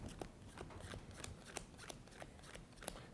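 Game cards from the 5-Minute Dungeon deck being counted out one by one, a string of soft, quick card snaps and slides in a quiet room.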